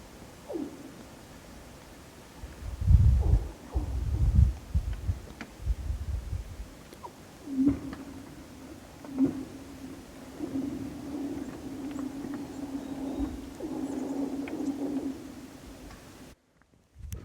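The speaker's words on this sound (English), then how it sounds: "The ice is cracking and it's making some crazy noises." Warming lake ice near California mountains cracks and booms in the morning sun, sending deep thuds and sharp pops followed by a long, steady, whale-like tonal moan that rises from faint to moderately loud.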